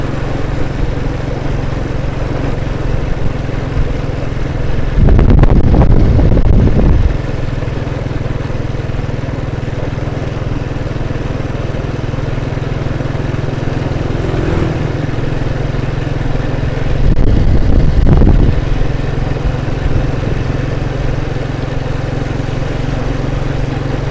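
A tuk-tuk engine runs steadily in a Lao village, a constant low drone throughout with two louder, rougher surges a few seconds each, as if revving or passing close.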